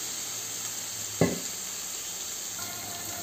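Ridge gourd pieces fry in a little oil in a pan, giving a steady soft sizzle with one brief clatter of stirring partway through. Nobody talks.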